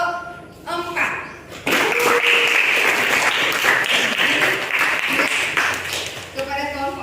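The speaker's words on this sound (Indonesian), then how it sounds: "Yuk kita beri aplaus kepada kelompok" A classroom of students applauds group 4 after their presentation of observation data, dense sustained clapping lasting several seconds, bracketed by a teacher's voice talking briefly before and after.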